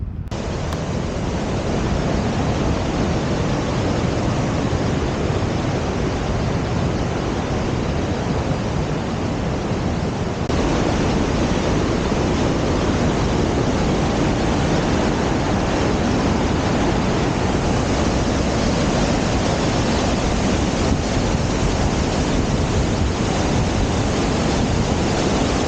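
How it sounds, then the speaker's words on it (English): McDonald Falls, a waterfall in Glacier National Park, roars as a steady, loud broadband wash of rushing water, unbroken and close, with no voices. "This is called McDonald Falls."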